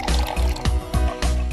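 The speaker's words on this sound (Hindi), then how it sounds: "एक बर्तन में पानी ले और उबालने के लिए रख।" Water poured into a pot for boiling tea, a continuous gushing, splashing pour with a few louder surges over about a second and a half, close by and without talk.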